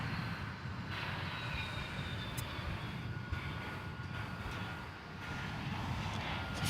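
Boeing 757 airliner at DFW Airport at night, with a steady broad engine roar holding at moderate distance throughout and no talking.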